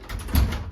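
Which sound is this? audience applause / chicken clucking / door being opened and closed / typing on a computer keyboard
door being opened and closed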